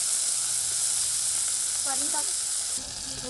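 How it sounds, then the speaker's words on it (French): Locusts, stripped of wings and legs, fry over an open fire in a cooking pot in Madagascar, giving a dense, steady, loud sizzle with faint voices and a soft stir partway through. "les criquets seront tout de suite mis sur le feu"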